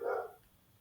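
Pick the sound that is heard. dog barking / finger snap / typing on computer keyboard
dog barking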